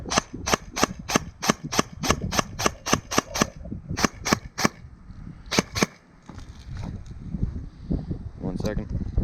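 Lancer Tactical Interceptor Gen 3 airsoft gun firing BBs from a high-capacity magazine: a rapid string of sharp, snappy shots in quick bursts, then a pause and a couple more shots, with background noise throughout.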